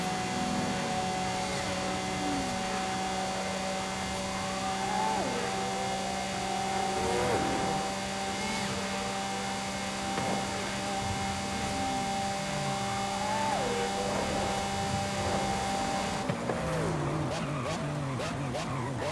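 A Lamborghini engine roars continuously at sustained top speed, around 200–228 km/h, with a steady loud drone and strong road and wind noise, shifting character near the end.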